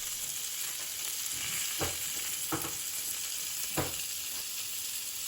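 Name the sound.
malai kababs frying in a pan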